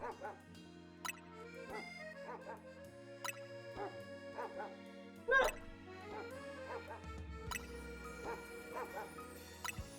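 Short yips and barks from dog Pokémon in a Pokémon video game sound repeatedly over looping game music, with one louder bark midway and a voice talking faintly at times.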